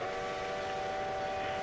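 The whistle of an RO-scale model train pulling Pennsylvania passenger coaches around a house sounds as a loud, steady, sustained tone over the low rumble of the running train.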